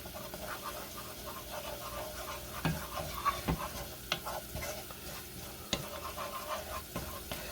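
Oregano and basil frying in olive oil in a pan for marinara sauce: a steady, moderate sizzle with scattered sharp clicks and knocks from stirring.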